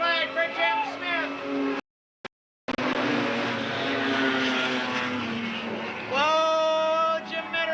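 Race cars at Eugene Speedway in 1992, one sliding sideways with its rear tire spinning, engines whining and rising loud and close with a short dropout in the middle, a race announcer talking over them.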